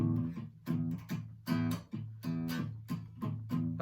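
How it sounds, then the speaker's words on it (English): A guitar pick strikes the E string, sometimes catching the neighbouring strings, in a steady beat of about eight plucks. Each note rings briefly and fades before the next, played alone and fairly softly. "You might hit any of the other strings, it might sound like this."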